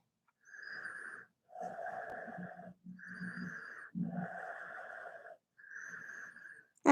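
Slow, deep yoga breaths during a shoulder-stand sequence, each long inhale and exhale audible and close, with a faint wheezy rasp, repeating in an even rhythm across several cycles with short pauses between them.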